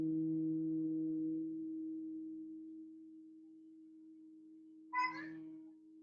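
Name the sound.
humming sound while breathing out in breathing exercise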